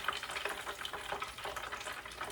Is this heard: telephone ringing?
no